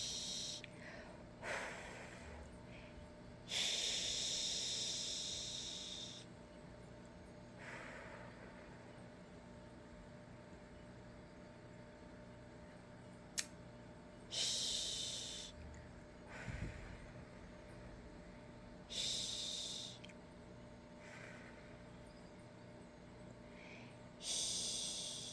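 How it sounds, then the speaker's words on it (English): Slow, deep breathing in and out, several long airy inhalations and exhalations spaced a few seconds apart, close and quiet over a faint low hum, with no talking. "So breathe in, breathe out."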